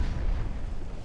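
Secondary guns of a battleship in Ultimate Admiral Dreadnoughts firing AP shells, heard as a deep, booming rumble of overlapping heavy reports that fills the brief moment without any talk.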